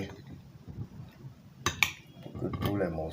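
Pieces being stirred in a glass jar with honey give a few soft clinks and knocks, faint and close, mostly near the end, over quiet background noise.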